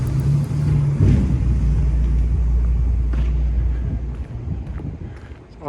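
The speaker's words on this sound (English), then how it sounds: "That garbage truck seems to be following me around." A garbage truck drives nearby along a city street during a summer walk in Regina, its heavy low engine rumble steady and loud for several seconds before easing off, with wind buffeting the microphone.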